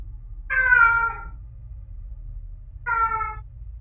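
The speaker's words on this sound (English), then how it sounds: "An angry cat, yeah." An angry cat gives two loud, harsh meows about two seconds apart, close by and alone over a low steady hum.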